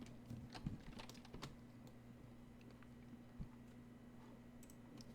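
Light typing on a computer keyboard while entering a port number on a website, a scatter of faint clicking keystrokes in a quiet room over a low steady hum, with no speech.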